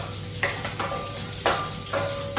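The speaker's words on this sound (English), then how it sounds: "We have to slowly roast the garlic and the shallots along with the spices." Curry leaves, garlic and shallots frying with spices in a pan for a Mangalorean chicken curry, a steady close sizzle with a few sharper crackling bursts as the mix is stirred.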